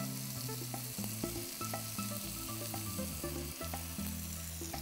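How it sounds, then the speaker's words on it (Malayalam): Prawns fry in a pan with tomato and onion, giving a constant sizzle punctuated by sharp crackles and spatters, heard up close with no speech. "ഇനിയിപ്പോൾ ഇതിനകത്തോട്ട് ഞാൻ വൃത്തിയാക്കി വെച്ചേക്കുന്ന കൊഞ്ചിടുക"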